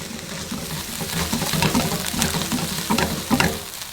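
Thai green curry with peppers sizzling and bubbling in a pan, a steady close frying hiss with soft stirring scrapes throughout, no voices.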